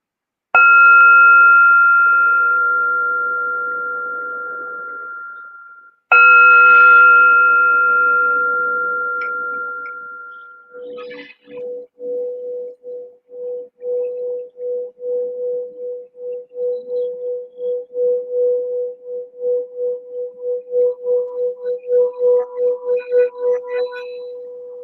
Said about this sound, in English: I want to say thank you by playing this gong or the Tibetan bowl